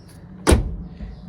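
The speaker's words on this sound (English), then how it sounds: "that door is shutting lovely as well" A Vauxhall Nova car door with a new rubber seal shuts in a single solid, close thud, then a short low resonance dies away.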